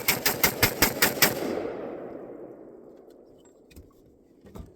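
An M16A2-style AR rifle built on a Stag lower and BCA upper fires a rapid string of about nine shots in quick succession. A long ringing echo decays after the burst, and then a few faint clicks follow.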